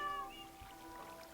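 A Minecraft cat gives a short, quiet meow near the start, a brief tonal cry that slides upward, over faint background ambience with no talking.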